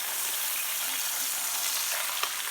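London broil steak sizzling in a hot pan just after being flipped, a loud steady crackling hiss with a small pop near the end and no talking.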